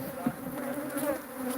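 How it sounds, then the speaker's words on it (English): Bees buzzing from a hive inside a wall, a close, continuous droning hum that wavers slightly in pitch, with no talk over it. "So the bees are in the wall."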